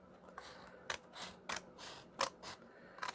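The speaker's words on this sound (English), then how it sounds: "I'm going to go to this first 3-inch score line and I'm going to snip that right there" Scissors snip a paper apple cider packet along a score line, several short crisp cuts in an uneven rhythm, close and clear over a quiet background.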